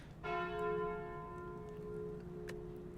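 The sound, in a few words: bell sound from the video game Slay the Spire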